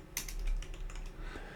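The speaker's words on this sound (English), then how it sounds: "I think my keyboard is too loud, isn't it?" A loud computer keyboard clacks through a brisk run of sharp, close keystrokes at an uneven rhythm, with no voices.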